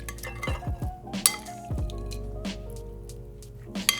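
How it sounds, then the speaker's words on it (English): Smashed cucumbers being plated into a bowl: close, wet squishing and slippery thuds of the dressed cucumbers mixed with several light clinks of utensils against dishware. "And then we just plate them in a bowl."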